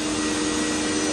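A factory machining machine runs on a billet part at a Dakota Digital shop, giving a loud, steady whine with a sustained tonal hum and no voices.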